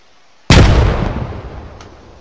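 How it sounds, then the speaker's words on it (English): An M79 break-action grenade launcher firing in Arma with the RHS mod: a single loud, deep, booming shot that hits suddenly and then fades through a long rumbling tail. "The M79, which is the American break action grenade launcher from Nam."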